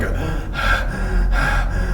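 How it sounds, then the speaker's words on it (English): Three heavy, breathy gasps in quick succession, like someone out of breath panting, loud and close in an otherwise steady background hum inside a hotel. "Yeah, like panting 3 times in a row"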